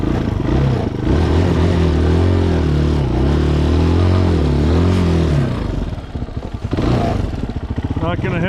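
A Chinese dual sport motorcycle engine revs hard and steadily while stuck in snow, a loud, close droning growl that wavers in pitch, then drops and clatters unevenly before surging again.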